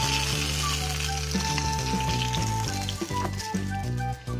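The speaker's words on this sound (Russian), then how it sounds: "следующие заготовочки отправляются на нашу сковороду" Pirozhki sizzle and fry in oil in a pan, a steady close crackle with a few soft clinks and shifting sounds, no voices.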